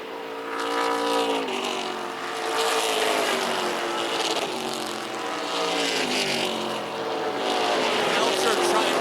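Several race cars roar around a 3/8 mile oval track, loud engines rising and falling in pitch as they pass, layered together in a continuous close drone with a commentator talking over them.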